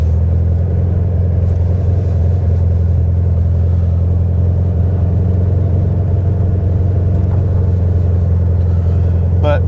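A 1967 Volkswagen Beetle on a test drive, its engine a loud, steady low rumble heard close from inside the car, with little change in pace and no talk over it.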